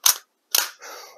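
Slide of a Tokyo Marui Desert Eagle .50AE airsoft pistol being cocked: two sharp, close mechanical clacks with a short gap between them, then a brief scraping rasp.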